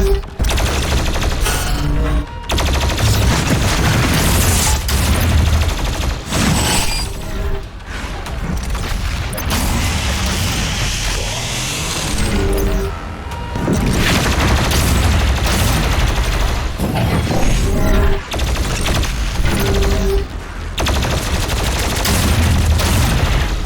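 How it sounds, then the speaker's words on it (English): Plasma gun fire in DOOM Eternal DLC combat comes as dense, loud bursts of rapid shots mixed with booms and impacts. Short gaps break the barrage, and no one speaks. "Yeah, I do like the plasma guns."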